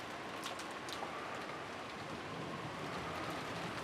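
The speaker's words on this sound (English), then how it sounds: "The malicious sound of thunder began to ring out," Steady heavy rain pours in the Umineko When They Cry video game, a dense continuous wash with low rumbling thunder rolling beneath it throughout.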